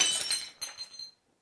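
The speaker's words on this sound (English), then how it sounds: "That's the fourth thing you've smashed all week." A glass object smashes by accident in a kitchen, a bright crash with tinkling shards that scatter and settle over about a second, close and fairly loud, then silence.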